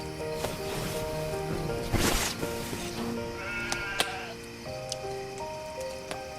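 A flock of 112 sheep bleats repeatedly. Several wavering calls overlap at moderate distance, and light rustling runs between them.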